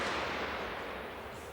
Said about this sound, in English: A few fireworks, yeah.